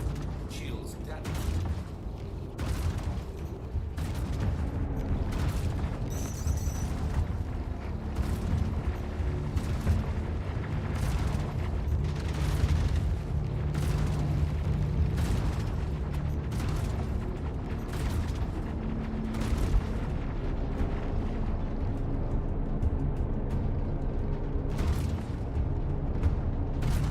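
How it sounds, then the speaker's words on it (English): Weapons fire and explosions in the space game Star Citizen during a bounty hunting fight, with repeated booms, impacts and mechanical clanks sounding throughout under an ongoing low rumble. "There's a lot of incoming fire from that thing."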